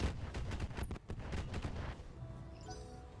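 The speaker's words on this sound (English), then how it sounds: "Actually, let's just fire the missiles." Missile volley launched in the Roguetech mech combat game: a dense, rumbling burst of rapid launches and impacts for about two seconds, then fading into a quieter tail with faint electronic tones.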